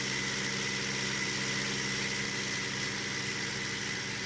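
Tractor engine running steadily in Farming Simulator 19, a continuous droning hum with layered low tones and a bright, even noise on top, constant in level throughout with no speech.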